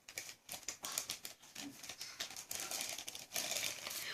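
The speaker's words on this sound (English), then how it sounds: "I'm just going to take the topping and just squish it in there." Plastic zip-top bag crinkles and rustles in dense, irregular bursts as a coffee bun topping is squished into it by hand, close and fairly steady throughout.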